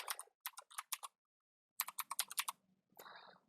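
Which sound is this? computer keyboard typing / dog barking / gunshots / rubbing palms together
computer keyboard typing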